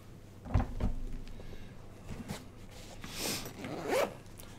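A pen case is unzipped on a desk, with fancy zipper pulls on the case. There are a couple of quick zipper rasps and light handling clatter up close, followed by longer drawn-out zipping strokes, and no voices.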